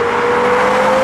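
A Porsche Carrera GT's engine holding a loud, steady, high-pitched wail close by, sustained without a break for about a second.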